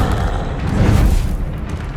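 A Confringo spell explodes in the video game Hogwarts Legacy, a loud, deep booming blast that rumbles on for about two seconds without any voices.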